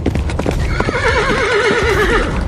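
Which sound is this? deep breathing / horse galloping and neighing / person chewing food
horse galloping and neighing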